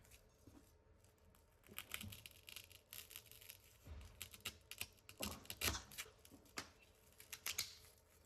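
Cutting dollar-store craft foam for a resin duck project: a series of short, crisp snips and scrapes in irregular bursts, close and fairly quiet, with no one talking.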